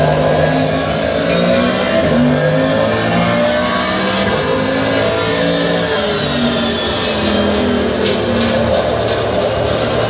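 A race car engine in a sim racing video game revs and climbs through the gears, with steady rising and falling pitches over about ten seconds, loud and continuous with no voices.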